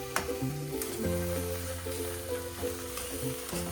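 Egg bhurji frying in a pan with tomatoes just added, a lively sizzle and crackle under scraping stirs of a spatula, close and fairly loud with a few clinks, no talking.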